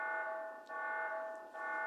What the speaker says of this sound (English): they wouldn't sound this alarm for no reason